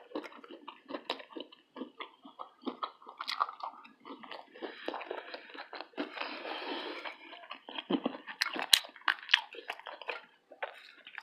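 Close, wet chewing and biting through vegan chicken patties, hashbrowns and cinnamon waffles, with irregular crunchy and squishy mouth sounds that come in bursts without talk.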